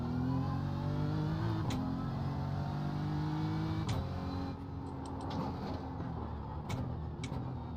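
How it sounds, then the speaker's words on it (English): Racing game McLaren race car engine under a steady high-revving drone of the player's own car, with harmonics rising and falling through gear changes and a brief pass of another car close behind. "I could hear a McLaren"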